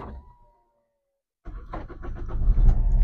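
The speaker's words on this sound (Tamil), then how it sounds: "இப்போ காரை ஸ்டார்ட் பண்ணுறேன்." A car engine cranks and catches after a silent pause, then settles into a steady, building idle rumble, close by and without talk.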